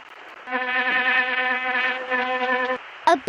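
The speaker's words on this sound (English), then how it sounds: "A bee." Cartoon bee buzzing in the PC hidden-object game I Spy: Treasure Hunt, a steady droning hum that holds for about two seconds and then stops, followed by a brief chime.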